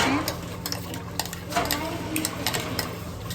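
Ground fried onion is stirred into a pot of nihari, giving soft scraping clinks of a spoon against the pan over a faint sizzle, repeated in an irregular rhythm at close range.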